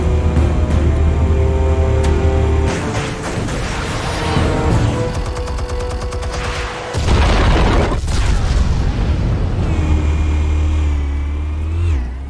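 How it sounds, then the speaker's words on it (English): Explosives detonating in the video game Batman: The Telltale Series, a loud dense boom and rumble layered with game music, swelling again partway through and sustained at high level throughout, with no talk. "Explosives armed. Fire when ready."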